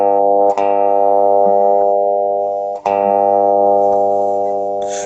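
A sustained tuning note A played on an instrument, rich with stacked harmonics, held steadily for several seconds with a brief break and re-attack midway, loud and close.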